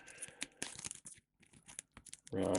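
Mage Knight cards being shuffled by hand, quick papery riffles and crinkly slaps in short bursts with brief pauses, ending in a louder rustle.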